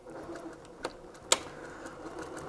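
A sewing machine runs quietly while topstitching closed the elastic casing on border-print pyjama pants, a soft steady whir broken by a couple of sharp clicks.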